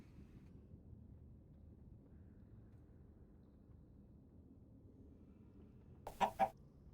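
A chicken's short burst of two quick, loud clucks, played as a stream sound alert, cuts in near the end after several seconds of faint background hiss.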